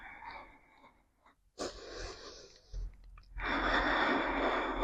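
A deep, audible exhale through the nose or mouth during a guided lung and large intestine meridian breathing flow on a mat, with several soft breathy bursts that swell into a long, close, steady outbreath.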